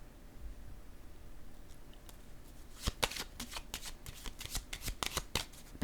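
Tarot cards are handled and laid down in a quiet room: after a few seconds of faint background hiss, a quick series of crisp card slaps and shuffling snaps follows, close and moderately loud.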